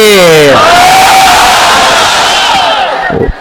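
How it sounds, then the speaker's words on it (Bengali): Large crowd of married men roaring the takbir in unison with full force, a loud sustained shout that fades out near the end. "গায়ের জোর দিয়ে তাকবীর দিবেন বিবাহিত ভাইরা"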